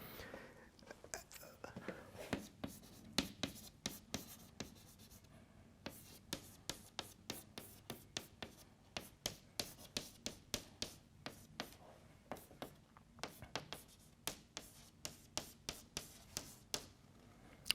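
Chalk or marker writing on a board during a physics lecture, with a long series of quick, evenly spaced taps and strokes, fairly quiet and close, with faint speech in the background.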